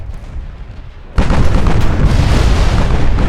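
High-explosive naval shell fire and explosions in the warship game Ultimate Admiral Dreadnoughts: after a quieter rumble, a loud sudden boom hits and a dense roaring blast with crackling debris follows.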